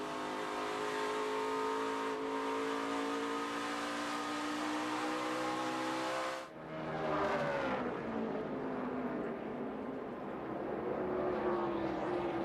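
NASCAR Nationwide Series race cars roaring around the Iowa Speedway short track, engines droning loudly as they pass, one sweeping by with a sharp pitch drop before the pack noise rises again.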